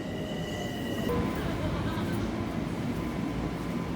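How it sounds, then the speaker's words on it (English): A Long Island Rail Road commuter train bound for Ronkonkoma rolls along, a steady loud rumble and rush of wheels heard from inside the car, with a brief tonal whine from the train fading out after the first second. "let's hop on this train together"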